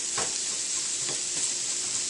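Garlic sizzles steadily in a pan for vegetarian chili, a constant close frying hiss with a few soft scrapes as it is stirred.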